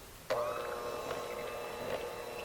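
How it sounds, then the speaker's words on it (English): A KitchenAid electric hand mixer starts up and whirs steadily through cake batter, a smooth, fairly quiet motor hum with a faint rising whine, running alone close by. "This is a KitchenAid electric hand mixer"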